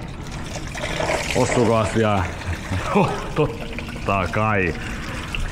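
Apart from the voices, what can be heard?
coolant pouring out during Toyota Proace water pump replacement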